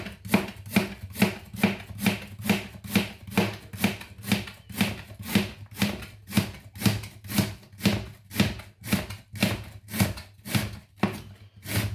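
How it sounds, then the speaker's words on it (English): A knife finely slicing red cabbage on a cutting board, around two dozen crisp, evenly spaced chops in a quick steady rhythm, close and clear with no talking. "And then cabbage flat on the boards. Finely slice as thinly as possible."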